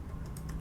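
A few soft, quiet clicks of typing on a computer keyboard, two or three keystrokes in a brief burst with no voice over them.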